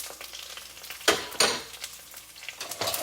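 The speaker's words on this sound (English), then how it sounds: "now I'm going to put the cumin seeds, 1 tablespoon of the cumin seeds" Cumin seeds, a tablespoon of them, hit a hot pan with a hissing sizzle. A couple of sharper crackling bursts rise over a steady frying hiss, and no one speaks.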